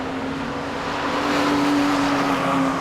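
A Porsche race car in the BRSCC Porsche Championship at Zolder rounds a corner, its engine a steady, loud, close drone with a sustained tonal whine that swells slightly mid-pass, no voices.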